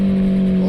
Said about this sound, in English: if you listen in 6th gear, this bike has secondary throttle plates in it